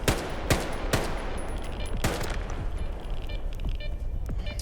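Rifle fire in a shooter video game: several sharp, loud shots at irregular intervals, some in quick pairs, over a constant hum of game ambience with no talk.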